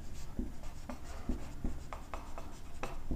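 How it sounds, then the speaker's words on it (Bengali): Pen or pencil writing out the answer to a class 10 simple interest maths problem, steady close scratching strokes with short pauses between words, no voice. "এবার অ্যান্সারটা লিখবো আমরা।"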